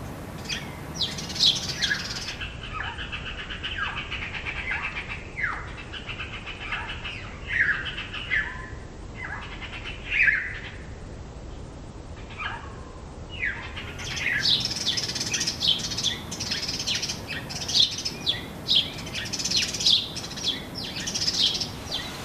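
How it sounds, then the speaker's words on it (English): Sparrows in a local park give repeated sharp, scratchy alarm calls that keep going in bursts over steady outdoor background noise. The calls are moderately close and grow busier toward the end. "Sparrow alarm calls."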